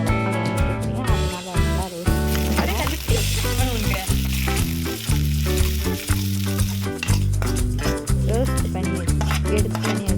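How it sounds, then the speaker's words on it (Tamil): Sliced okra fries in oil in a pan, giving a steady crackling sizzle that sits beneath loud, rhythmic background music throughout. "அதில் எண்ணெய் ஊற்றிட்டு நம்ம நறுக்கி வச்ச வெண்டைக்காய் போட்டு நல்லா ரோஸ்ட் பண்ணியிருந்தேன்."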